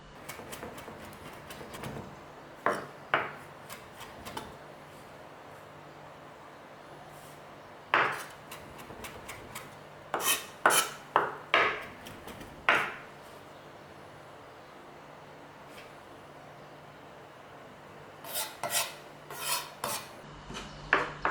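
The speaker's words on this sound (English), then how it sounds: "we're just going to run a knife through them, but not very small on this" A knife chopping fresh mint leaves on a board in scattered clusters of quick, light taps broken by quiet pauses, fairly close and without speech.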